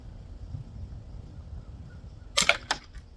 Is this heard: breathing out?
no